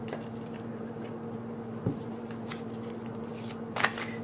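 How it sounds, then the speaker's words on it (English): Tarot cards shuffled by hand, a steady papery riffling close by with a few sharper flicks and taps near the end, heard alone over a low constant hum. "let's pull some more cards"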